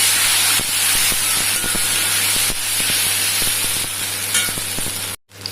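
Coriander, turmeric and chili powder sizzle loudly in a hot pan as they are stirred, a dense continuous hiss with faint scraping taps, cut off abruptly near the end.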